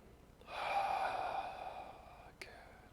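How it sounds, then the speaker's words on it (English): Single deep breath drawn in through the nose during a yoga session, a close, soft airy inhale swelling for about a second and a half, followed by a brief sharp click. "Breathe in deeply."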